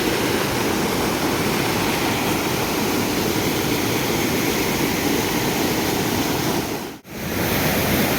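A small river flowing after heavy rain, heard close up as a loud, steady broadband wash of rushing water that holds constant throughout, with only a momentary dip near the end.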